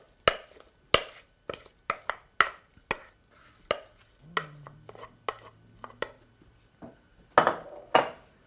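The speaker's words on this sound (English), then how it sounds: "Now we're going to spread it into our prepared springform pan." Apple cake batter being spread into a springform pan with a utensil, a string of sharp scraping clicks and taps against the pan, irregular and close, with a brief low hum in the middle.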